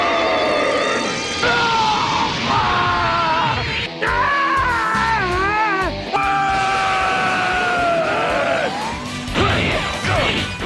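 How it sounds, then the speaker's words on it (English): Dragon Ball Z Budokai fighters scream and yell in drawn-out, strained bursts over crashing and thwacking impacts, loud and near, with cries rising and falling across the fight. "And why is there so much screaming?"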